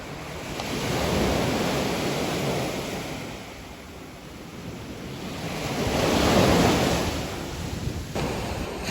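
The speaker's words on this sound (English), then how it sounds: "The waves crash into them." Ocean waves crash against rocks in the sand on a beach, two broad swells of roaring surf rising and fading over steady wind noise, with no voices.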